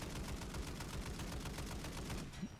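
Rapid automatic gunfire from a new weapon in Modern Warfare 3 Zombies, a steady stream of closely spaced shots rattling on without pause, loud and close, with a brief thump near the end.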